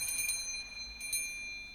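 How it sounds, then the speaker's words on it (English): Soft bell tinkling over a shop door in an audio story, two light bright clusters of chimes, quiet and close, with no talking. "the bell over the door tinkled softly."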